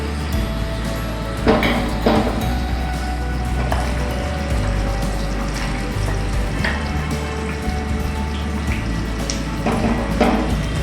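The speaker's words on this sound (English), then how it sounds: "Add tender coconut water." Tender coconut water pours steadily into a cooking dish with chili or sambar powder and salt, a continuous watery splashing and faint sizzle running evenly for about eleven seconds with no talk.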